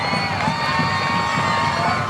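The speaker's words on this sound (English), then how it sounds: "Listen to that crowd." Large crowd at a high school football game between Malvern and Arkadelphia cheering and roaring continuously, loud and dense, with scattered shouts and whoops.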